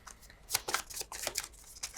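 Cards from a board game deck being shuffled by hand in repeated riffling bursts, moderately close and alone with no talking.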